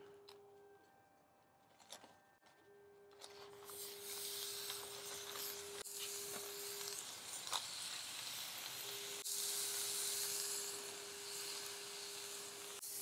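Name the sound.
thin burger patties sizzling on the grill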